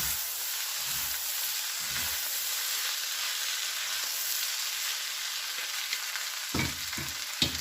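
Food being stirred in a hot pan with the heat turned down, a steady frying sizzle and hiss with a few soft scraping knocks of the utensil near the end.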